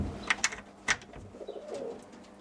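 Roller pigeons in a loft with chicks, a few soft, close coos and short calls over quiet background rustling.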